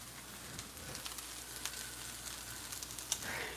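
Green onion sizzles steadily in a hot pan of vegan fried rice, a close, even crackle with small pops and occasional utensil scrapes, no voices.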